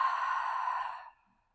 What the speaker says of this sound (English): And exhale out through the mouth.